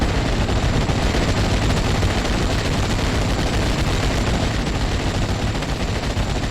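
MG-42 machine gun fire in the Steel Division Normandy 44 video game, a continuous loud barrage of rapid gunfire with dense overlapping shots and no pauses.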